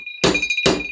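Two separate hammer taps on a motorcycle clutch hub being seated, each a sharp metallic thunk with a short ringing tail, close and loud against a quiet background.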